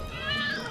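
A single cat meows in a TV commercial, a short rising-and-falling call heard close and clear over a faint background.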